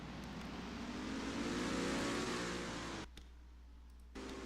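A race car engine in a racing video game drones steadily as the car leaves pit road at Yas Marina, swelling slightly, then cutting out abruptly for a moment before resuming.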